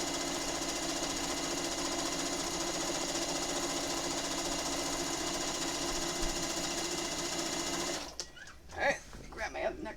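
Sewing machine stitching quilt borders on a Pokémon appliqué quilt: a steady, loud, continuous mechanical whir for about eight seconds, then it stops and a voice speaks.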